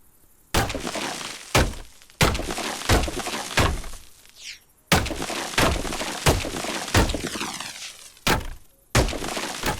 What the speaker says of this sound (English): But we're gonna have to get started smashing the place up.